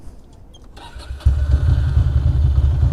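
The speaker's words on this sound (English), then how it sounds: "After playing with the key for 10 minutes, the bike did start." A Ducati Monster motorcycle on a New York City street cranks and catches, its engine firing into a loud, steady, rumbling idle after a short stretch of quieter street noise.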